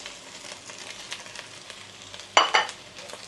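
Egg and rice frying in a pan for Thai fried rice with pork, a steady sizzle with stirring scrapes and a couple of louder spatula clatters, under a speaking voice.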